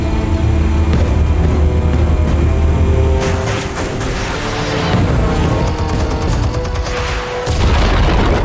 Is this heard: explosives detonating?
yes